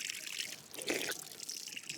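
Water pumped from the water table by a wind turbine pump during a drought gushes and trickles out in a continuous splashing flow, moderately loud, with a louder surge partway through.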